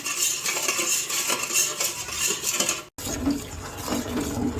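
A utensil stirring food in a cooking pot, with continuous close scraping and clinking against the metal and a faint watery slosh, briefly cut by a split-second gap before the stirring resumes.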